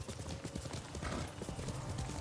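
Rhythmic clip-clop of a horse's hooves as it moves at a steady gait through the world of the video game Ghost of Tsushima, with hoofbeats thudding close and continuously over a low ambient bed.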